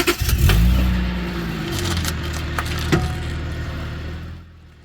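A 2004 Honda Pilot parked with the steering wheel being turned, giving a few sharp metallic pops and pings over a loud, steady engine and steering groan, with one clear crack near the end.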